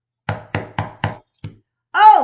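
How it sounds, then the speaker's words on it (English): Four firm knocks on a door, evenly spaced and close, followed by a softer fifth tap after a short pause, then a voice begins speaking. "and he knocked on the door again."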